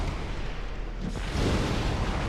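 Pyromancy fire orb bursting in Dark Souls, a loud rumbling blast with a sharp onset near the middle, swelling into a dense roar that carries through to the end.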